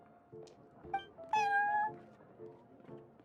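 The cat Prince in Genshin Impact lets out a few short meows, then one longer, rising, drawn-out meow in the middle, followed by quieter chirps, close and clear with no talk.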